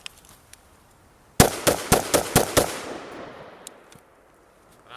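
An AR-15 rifle fires a rapid string of sharp, loud shots outdoors, each crack trailing a short echo that fades into quiet, with faint distant pops afterward.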